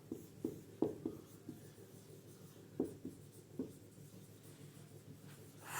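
Chalk or marker strokes on a board during a Class 12 physics lesson on magnetic substances, with a few sharp taps and scratchy bursts spaced irregularly over a quiet room, with no talking.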